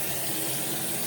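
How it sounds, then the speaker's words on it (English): Tap water running steadily into a sink as it is rinsed out while a box fan is being cleaned, a brief, even splashing gush close by with no voices. "I'm just going to rinse the sink a few times and try to get a lot of this stuff cleaned"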